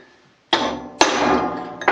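Sharp metal strikes from a center punch hitting a steel workpiece while marking a drill spot, three distinct loud impacts, each ringing briefly with no talk.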